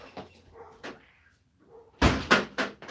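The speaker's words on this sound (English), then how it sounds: "What I'm gonna do is I'm gonna shut my door." A door swings shut with a loud, close thud, followed by a few more knocks and rattles, after some quieter rustling and faint clicks; a dog may be present.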